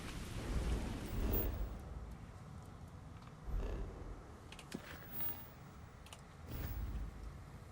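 Thunderstorm with rain in Starfield, a steady hiss of rainfall broken by several low rumbling swells of thunder, fairly quiet and with no voices.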